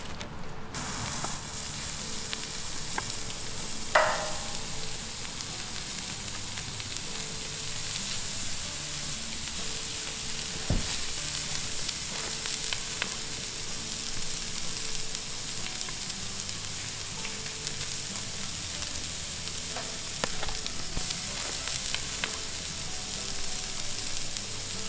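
Seasoned meat sizzles on an oiled grill set around a double flame, a steady close hiss and crackle lasting throughout, broken by occasional clicks and light metallic taps, with no talk.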